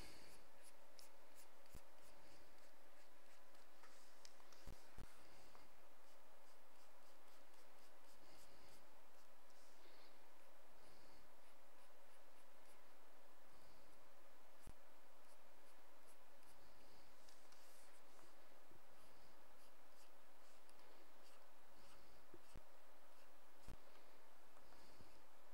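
A pen scratching and scribbling on paper while drawing in white, a steady run of soft close strokes with short pauses, faint and continuous throughout.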